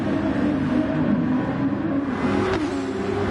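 A Ferrari Super Formula race car engine drones steadily at a constant loud level with dense broadband roar, a brief sharper burst near the end as it pushes through a corner.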